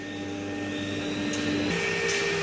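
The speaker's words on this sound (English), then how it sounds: "This is a new fittest metal engraving machine." A JX6060 CNC metal engraving router with an air-cooled spindle and screw-driven table runs steadily, a continuous mechanical whine with sustained tones that shift in pitch partway through, loud and close, no talking.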